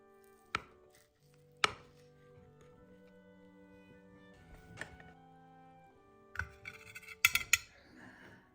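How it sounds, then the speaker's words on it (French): A knife cuts through a gluten-free chocolate and chestnut cream fondant cake, sharp clicks of the blade hitting the plate at scattered intervals, with soft scraping between and a quick cluster of taps near the end. "Maman avait déjà commencé à couper."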